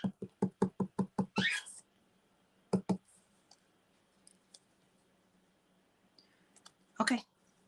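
Rubber stamp tapped repeatedly onto an ink pad in a quick run of about eight light knocks, then pressed onto paper with a couple of sharper thumps and a brief rustle, close and crisp in a quiet room.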